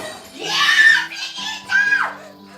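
A young girl named Mei screams in a film, two high-pitched, piercing wails in a row, the second shorter and rising, close and loud.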